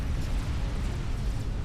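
A Billy Nuke goes off in Supreme Commander: Forged Alliance, a deep rumbling boom that rolls on as a heavy, sustained low roar through the whole moment, loud and with no talk.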